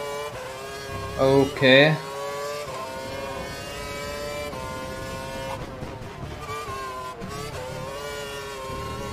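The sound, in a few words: Formula 1 car engine revving in F1 2012 video game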